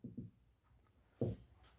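Pen strokes on paper as a math solution is written out by hand, two short bursts of scratching a second apart, close and quiet with no talk.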